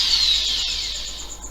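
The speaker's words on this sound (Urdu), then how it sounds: "اس کے اندر ڈرل مشین کے ساتھ سوراخ کر دیتے ہیں" Electric drill machine boring a hole through a washer, a steady high-pitched whine that sags slightly in pitch as it bites into the metal, close and loud, no voices.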